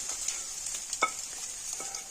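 Chicken being stirred into a pan of sizzling Chinese-style chicken sauce at home: soft scraping of a spoon over a steady frying hiss, with one sharper clink of utensil against the pan midway.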